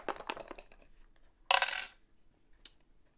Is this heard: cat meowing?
no